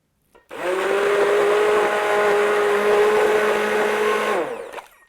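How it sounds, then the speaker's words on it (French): A blender purées a radish velouté with fresh cheese, a loud steady motor whir that starts abruptly, holds for about four seconds with a slight pitch rise, then winds down. "on va simplement ajouter notre fromage frais avant de mouliner l'ensemble"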